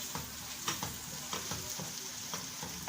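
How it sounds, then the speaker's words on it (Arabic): Onions fry in a pot for koshari with a steady dense sizzle, punctuated by soft stirring clicks and scrapes at an even close distance, no voices present. "اكمل تحمير البصل وارجع لكم تاني يا حبايب"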